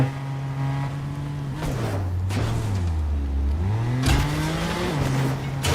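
A car driven in the video game Fortnite, its engine close and loud, dropping and climbing in pitch as it speeds up and slows, with a brief tire-screech texture, and no talking.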